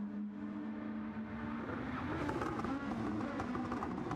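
Touring race cars in a video game at Bathurst, engines revving and building to a louder multi-car roar as they accelerate, with no one talking.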